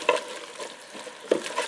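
Beef empanada filling sizzles and crackles as it cooks in a Ninja Speedi, with intermittent scraping stirs of a utensil through the mixture, close and moderately loud.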